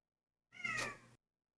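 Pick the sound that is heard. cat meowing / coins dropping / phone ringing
cat meowing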